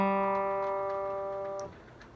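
An open G string on an acoustic guitar rings as a single sustained note, standing alone and fading steadily for about a second and a half before being damped abruptly.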